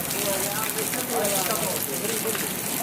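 Heavy rain pouring down steadily in a dense, loud hiss, with a voice talking faintly underneath.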